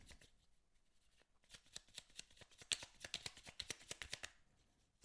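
Tarot cards are shuffled by hand in a rapid run of crisp, fluttering riffles and slaps up close, building to a dense flurry before they settle, with no one speaking.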